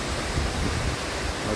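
Hebbe Falls, a waterfall, as a dense, steady rush of falling water, loud and continuous with no pauses or voices.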